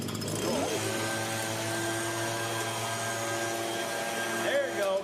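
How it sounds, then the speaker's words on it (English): A leaf blower runs steadily at close range at a party after a tornado, its motor holding a constant drone with a brief surge near the end. "Why would you bring a leaf blower to a tornado party?"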